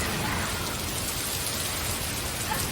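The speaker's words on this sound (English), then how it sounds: "there's high winds, there's a lot of rain" Heavy rain and high winds during a storm make a dense, continuous hiss and roar, steady and unbroken throughout, fairly loud with no voices.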